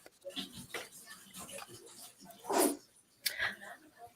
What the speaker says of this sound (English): You guys hear my little Yorkie growling at me?